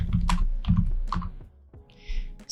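Fingers tap on a computer keyboard in short clusters of crisp clicks, a few quick keystrokes then pauses, close and clear with no talking.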